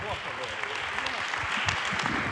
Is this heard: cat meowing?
no